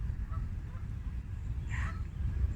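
A Canada goose gives a single nasal honk partway through, set over steady low outdoor rumble and wind.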